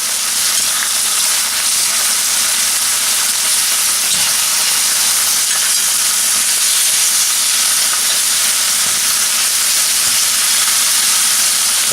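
Pork tenderloins and home fried potatoes sizzle loudly in a cast iron skillet, a steady dense frying hiss with no pauses throughout.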